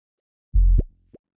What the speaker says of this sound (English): it kind of makes this little bleepy bubble noise too at the end